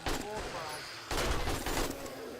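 Rifle gunfire in the video game 7 Days to Die: two sharp reports about a second apart, each with a noisy decaying tail, close and fairly loud, with faint voice nearby.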